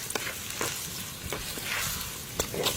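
Onions frying in a pan while cooking mutton paya, a steady close crackling sizzle with a few louder pops and stirring scrapes throughout.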